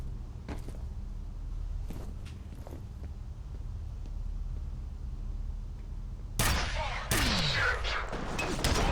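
Gunfire in F.E.A.R. begins as a few faint, spaced shots, then two loud, sharp bursts crack out near the end over a low ambient rumble.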